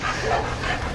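Several dogs being readied to load up for ginseng hunting give short overlapping barks and yips nearby, in a brief burst with no talk.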